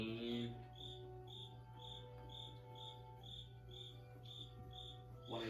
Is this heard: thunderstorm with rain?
no